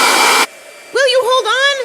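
A blow dryer roars loud and close in a short burst of harsh airy noise, then cuts off abruptly, followed by a voice speaking.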